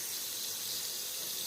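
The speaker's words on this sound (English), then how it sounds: "I'm filling back up the water" Tap water gushing from a kitchen faucet to fill a pot for cooking mustard greens, a steady hissing rush, close and constant throughout with no talk.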